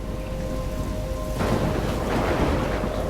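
Heavy, steady downpour in a thunderstorm in the video game Life is Strange, with a thick wash of rain that suddenly swells into a loud, rolling thunder rumble partway through, with no speech.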